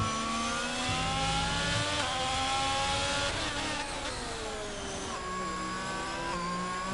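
A Formula 1 race car engine in a racing game at the San Marino GP holds a steady high-pitched whine, pitch sliding through gear changes and shifting through a corner, loud and continuous with no talk.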